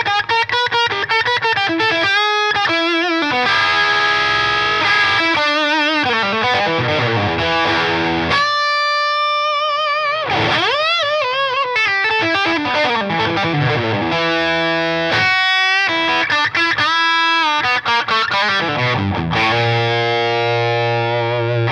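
Electric guitar played through a Victory V30 The Countess MkII amp, loud and heavily overdriven, with chugging palm-muted chords, ringing sustained notes and quick lead phrases in a continuous, full-volume stretch with no talking.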